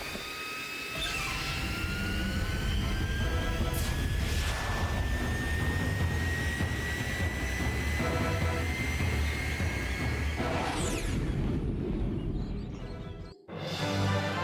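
Fox's spaceship from the game Star Fox Adventures flies with a loud, steady jet-engine roar and a rising whine, a couple of whooshing passes, then cuts off abruptly near the end.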